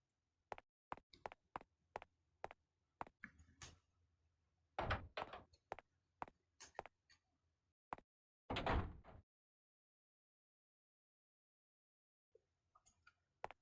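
Short door-handle clunks and thumps from a locked door in Clock Tower II: The Struggle Within, a rapid series of sharp rattling knocks followed by a couple of heavier thuds, close and fairly quiet against a low ambient hum.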